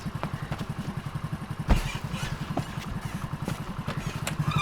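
A motorbike in poor condition is ridden off, its engine chugging in a steady, rough, rhythmic putter close by, with one sharp clank partway through.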